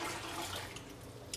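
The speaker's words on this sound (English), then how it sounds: "there's 8 cups of water, which is half gallon, which I'm gonna add to it" Half a gallon of water pours steadily into a silicone Stasher reusable freezer bag, a continuous close, even gush with no pauses.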